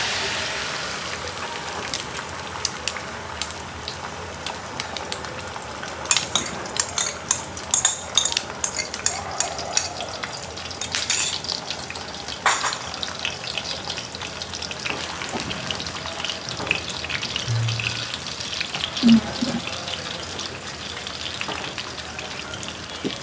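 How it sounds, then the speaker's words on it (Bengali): An egg frying in a pan during home cooking gives off a steady, close crackle and sputter with scattered sharper pops, running throughout with no talking. "তো এখন হচ্ছে ডিমটা ভেজে নিব।"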